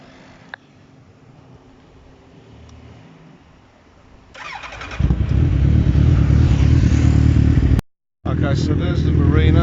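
A motorcycle called the Black Pearl cranks and fires into a loud, steady idle close by after a few seconds of quiet background, with a brief dropout before the running engine resumes.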